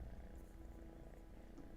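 A cat on a lap purrs steadily and continuously, a low, soft, rhythmic rumble close to the listener with no talk over it.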